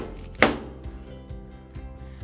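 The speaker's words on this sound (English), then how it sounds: "we're gonna take our knife and we're gonna very carefully, with our adult's permission, we're gonna cut right here at the edge of the core" A kitchen knife cuts through an apple near the core with one sharp, crisp crunch close up, then fainter soft scraping and tapping against a board, with no voices.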